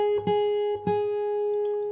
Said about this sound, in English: you play the open high E string 4 times